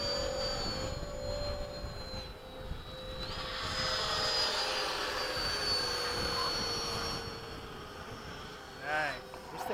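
RC jet model of a Hawk flying a low pass at Bayside, a loud continuous turbine whine with a steady high tone that swells as it passes close, with faint talk underneath.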